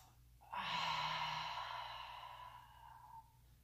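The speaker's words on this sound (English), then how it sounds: "Exhale through your mouth." A single long, soft exhale through the mouth during a guided breathing exercise, starting abruptly and slowly fading over about three seconds in a quiet room.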